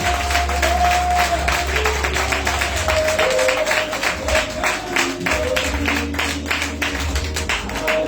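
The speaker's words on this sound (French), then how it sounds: "Est-ce que tu peux m'acclamer Jésus? Acclame-le très fort, je veux le sentir." A church congregation claps and cheers for Jesus, dense sustained applause with rhythmic claps, shouts and a sung or held tone, loud and close throughout.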